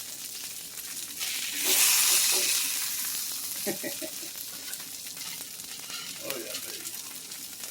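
Buffalo chicken burgers sizzling on a grill, a steady close frying hiss that swells in the middle, with a few clinks and a man's brief exclamation over it.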